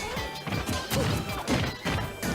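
A Diddy Kong banana struck by an up smash in a Super Smash Bros match, heard as a series of loud crashing and whacking impacts, roughly four sharp hits over a busy game soundtrack.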